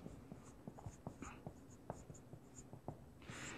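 Chalk or marker scratching out equations on a board during a circuit analysis lecture, a run of short, quick taps and strokes close by, with no talking.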